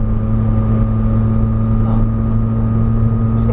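Engine of a Datsun 240Z swapped with an SR20, droning steadily from inside the car while driving, a loud continuous hum with even tonal engine harmonics and no speech.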